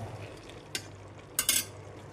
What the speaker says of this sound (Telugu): అంతా మిక్స్ చేసుకుందాం.